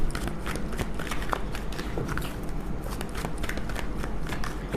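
A deck of tarot cards is shuffled by hand, giving rapid, close papery riffles and flicks that repeat steadily throughout without speech.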